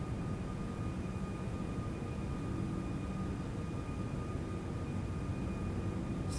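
Steady, droning jet engines of a Toliss A340-600 airliner climbing out in X-Plane 12, a continuous roar with faint tonal whine held at even loudness throughout.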